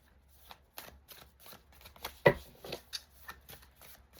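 Tarot cards being shuffled by hand: a close series of quick riffling and tapping bursts in an uneven rhythm, with one sharper snap midway, quiet overall.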